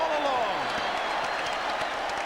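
A capacity basketball arena crowd roars and applauds at the end of the first half, a loud, sustained wash of cheering that stays steady throughout, with a commentator's voice running over it.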